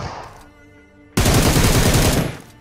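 Gunfire in the mobile battle-royale game PUBG Mobile: a quiet lull gives way to a sudden, loud, dense burst of rapid automatic shots that lasts over a second before cutting off.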